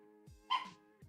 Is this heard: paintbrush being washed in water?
no